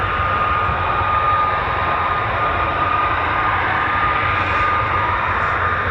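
A military fighter jet, an F-15 or F-35, roars at RAF Lakenheath with a loud, steady, broadband engine rumble that holds without a break for several seconds and has no voices over it.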